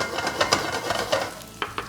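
Onion going into a pan for a kids' bento curry, a brief close sizzle with soft crackles and a few clicks of utensils, moderate level, no voices.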